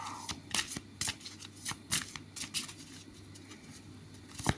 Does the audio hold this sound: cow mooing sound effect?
no